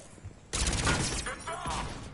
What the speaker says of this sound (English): Intruders, open fire!